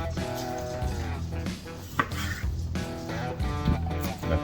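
A knife chops birria meat into small chunks on a board, steady close thuds in quick bursts over a background hum.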